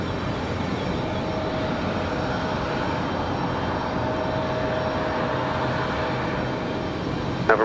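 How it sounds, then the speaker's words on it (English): A FedEx ATR turboprop aircraft arriving at Raleigh-Durham airport produces a steady, fairly faint propeller and engine drone that holds evenly throughout. "And our next arrival is going to be those turboprops of the FedEx"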